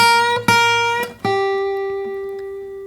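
A single guitar note on a 14 gauge E string, plucked a few times and then sustained with gentle vibrato, bluesy, clear and close, ringing alone and slowly fading.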